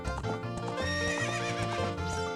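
A horse galloping and neighing in a 90s Zelda game, loud close whinnies over a rhythmic beat of hooves, set against bright tonal game music, with nobody talking.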